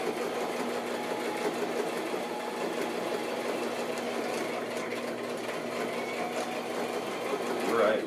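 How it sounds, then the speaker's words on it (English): A sewing machine runs steadily, back stitching seams on a handmade handbag, with a continuous close mechanical whir that holds level for the whole stretch and rises slightly at the very end. "then I'm just going to back stitch it again"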